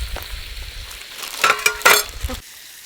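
Fish taco filling sizzles and frying on a wood stove at a camp, with soft clinks and stirring bursts near the end, close and steady, no talk.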